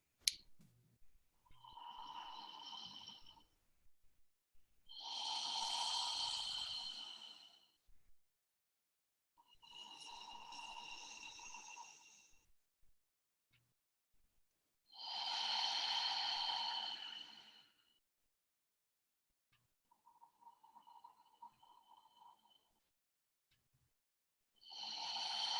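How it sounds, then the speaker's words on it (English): Deep belly breathing with slow, full inhales and exhales, about five long airy breaths several seconds each separated by quiet pauses, close and soft with no talking. "as I breathe in, everything's gonna puff up and expand. And as I breathe out"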